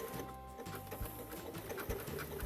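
A sewing machine runs steadily on a woven quilt, its motor humming and needle chattering in a fast, even rhythm up close, with no talking.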